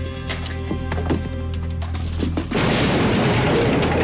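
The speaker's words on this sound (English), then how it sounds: "My man just casually threw a grenade on the ground" A grenade thrown on the ground detonates in the 1988 film They Live, a sudden crashing blast that bursts in after a run of sharp knocks and tones and fills the rest of the moment with dense noisy roar.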